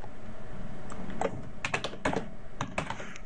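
Close computer keyboard typing in short irregular clusters of clicks, a few keys at a time with brief pauses and no speech.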